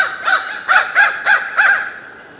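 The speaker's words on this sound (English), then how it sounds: "A crow? Of course it is." A crow gives five harsh, evenly spaced caws, close and loud against a quiet background.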